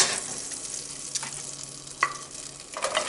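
Onions hit melted butter in a pot and sizzle, a bright continuous frying crackle with a few sharp pops and stirring clatters, close up and fairly loud, with no speech.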